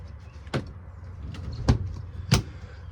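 Storage drawers in a Ford Ranger RV latching shut, three sharp separate clunks spaced about a second apart over a quiet cabin background.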